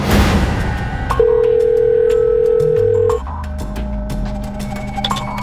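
A steady telephone dial tone holds for about two seconds while someone calls a phone number, then cuts off, with quiet background tones and low music around it.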